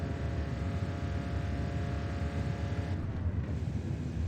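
Car engine in fourth gear in the Apex Point racing video game, a steady, moderately quiet droning hum that holds at a fairly constant pitch for a few seconds with no voices.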